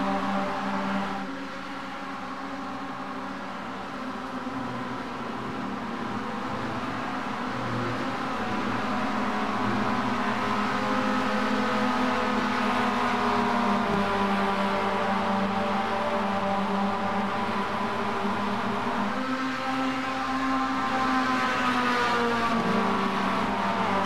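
NASCAR stock cars racing at Atlanta Motor Speedway, a continuous loud roar of several engines droning together, pitch swelling and sliding as the pack circulates, with no voices over it.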